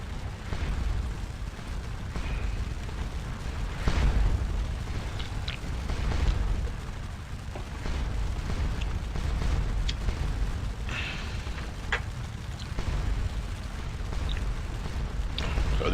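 Napoleonic-era artillery booms in the Waterloo battle game Scourge of War, with repeated distant cannon thuds and rumbling blasts rolling over a constant low battlefield din.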